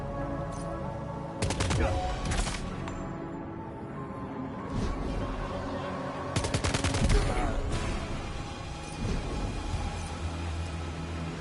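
Gunfire in Death Stranding II, with two loud bursts of rapid shots a few seconds apart over a steady ambient background.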